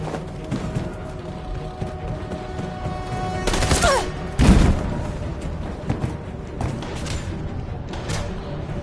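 Gunfire erupts in the video game Detroit: Become Human, with a loud burst of shots and a heavy thump amid constant rumbling battle noise and scattered softer impacts.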